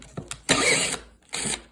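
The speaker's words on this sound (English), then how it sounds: "So I just take this 1/4 inch Allen, cut off Allen, and I'll drive it in" A cut-off 1/4 inch Allen key is driven into a threaded insert in wood, giving short bursts of rough grinding and ratcheting friction separated by brief pauses, close and fairly loud, with no one talking.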